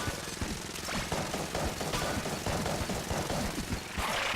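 Rapid, dense gunfire from the video game Enter the Gungeon, a continuous stream of overlapping shots and impacts that stays loud and busy throughout with no voices.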